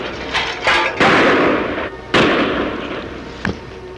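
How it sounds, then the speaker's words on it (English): Gunshots in a radio drama: three loud, sharp reports with long echoing tails, followed by a fainter fourth crack, heard alone with no voices. "How many shots did you count?"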